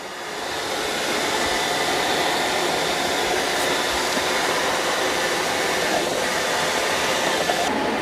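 A Shark AI Ultra robot vacuum's self-empty base sucks debris out of the robot's dustbin with a loud, steady, close-up rushing whoosh that holds unbroken for several seconds, with no talking.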